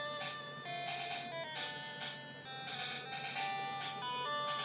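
Chiptune-style video game music playing through the small built-in speaker of an RG353M handheld console, bright beeping melody notes in a steady rhythm with a thin, treble-heavy tone.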